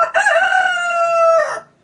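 A rooster crows once, a loud, close, sustained cock-a-doodle-doo lasting over a second and trailing off, with no talk around it.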